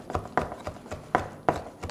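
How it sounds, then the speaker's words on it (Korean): A knife finely minces cheonggak seaweed for kimjang kimchi on a cutting board, giving a steady series of close, soft thuds roughly every third of a second, with no talking. "아주 곱게 다져주세요"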